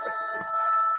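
A mobile phone rings with a steady electronic tone during a panel discussion at a forum, one short burst of about a second at moderate loudness with no speech over it.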